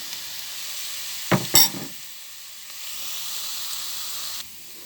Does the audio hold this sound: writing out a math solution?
no